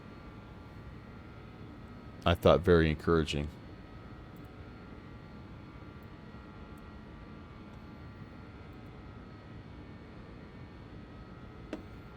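A BAE 146 jet in X-Plane 12 gives a steady, faint, broadband engine drone throughout, with a brief spoken phrase partway through.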